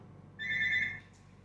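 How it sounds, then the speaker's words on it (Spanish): A telephone rings once in a short electronic burst of steady tones, fairly loud against quiet room noise during a crocheting session, with no talk. "justo sonó el teléfono"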